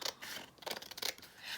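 Scissors snipping paper scraps close up: a few quick, light cuts with short crisp rasps and pauses between them, quiet and alone.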